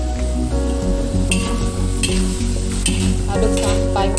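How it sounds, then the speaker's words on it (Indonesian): Napa cabbage and tomato stir-fry with chives being stirred in a hot pan, a loud continuous sizzle with scraping stirring strokes close up, no talking. "aduk sampai merata."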